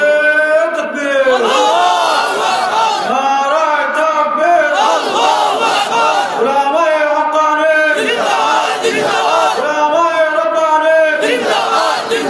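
A large crowd at an Islamic religious gathering in Dhaka chants a slogan in unison, loud, continuous and rhythmic, with massed voices rising and falling in repeated phrases throughout.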